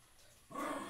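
A dog barks loudly and close by, starting abruptly midway after a stretch of quiet room noise during an indoor podcast recording.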